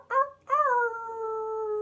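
A person imitates a wolf howl alone: a short rising yelp followed by one long, steady, sustained howl, fairly loud and close.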